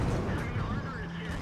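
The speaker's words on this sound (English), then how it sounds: "I will pop a shot into him." Hetzer tank destroyer gun firing in World of Tanks, a heavy rumbling blast with a sustained low roar and crackling tail, with a voice faintly present beneath.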